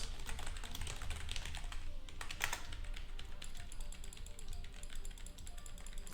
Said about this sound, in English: I was standing still for 3 seconds because I was typing.